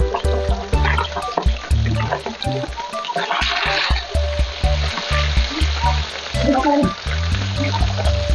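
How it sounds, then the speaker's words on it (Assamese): Fish frying in a pan at home, a loud, continuous crackling sizzle close by with irregular spits and pops, plus faint trickling water in the background and a rhythmic ticking through it. "মই এফালে মাছ ভাজি আছো"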